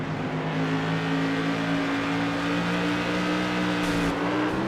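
A modified race car at Richmond accelerates hard under heavy throttle, its engine drone steady and loud with sustained harmonics across the whole stretch, other car noise mixed in.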